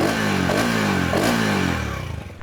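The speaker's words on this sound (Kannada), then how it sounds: "ಅದಕ್ಕೆ ಮುಂಚೆ ಒಂದು ಎಕ್ಸಾಸ್ಟ್ ನೋಟ್ ಕೇಳಿಸ್ತೀನಿ." A TVS Apache RTX 300 motorcycle revs loudly up close, its exhaust note rising and falling in two strong throttle blips before easing back toward idle, with no voices.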